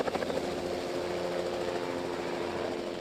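B-3 helicopters at the Mughal Road project site in Kashmir make a steady, continuous rotor and engine drone, fairly loud and unbroken throughout, with no voices.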